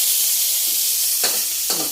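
Garlic sizzles loudly in a hot pan, a dense steady frying hiss with two brief surges as more is added or stirred, close up and with no voices.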